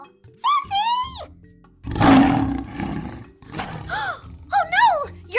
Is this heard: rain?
no